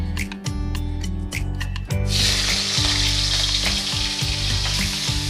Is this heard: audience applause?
no